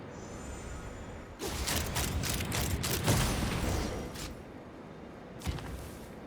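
Rapid volley of gunfire in a video game, a dense burst of shots and mechanical clatter lasting several seconds, then fading, with a final sharp crack near the end.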